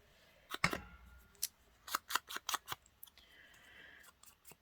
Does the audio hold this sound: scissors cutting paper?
yes